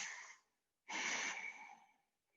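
Slow, deliberate yoga breathing: one long exhale fading away, a short pause, then a second, stronger breath through the nose that tapers off gradually, close and clear with no talk.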